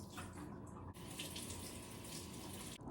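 Water splashes steadily into a sink as tofu is drained, a close, continuous rushing flow with a brief break partway through.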